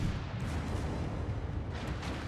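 A naval gun salvo from World of Warships, a loud, dense booming roar that fills the whole short moment with no clear gaps.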